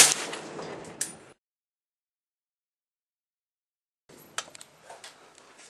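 A suppressed 300 Win Mag rifle firing a Winchester 180 grain soft tip hunting round through a 30 cal suppressor: one sharp, loud report with a short rumbling tail, then silence, followed by a second sharp crack and scattered echoes.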